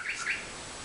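A bird clock sounding its hourly bird call, a couple of quick high chirps heard faintly over a steady background hiss.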